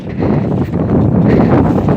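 Cold wind blows hard outdoors, buffeting the microphone with a loud, low, rumbling roar that surges and eases over a couple of seconds.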